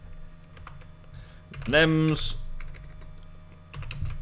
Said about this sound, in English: I'm typing here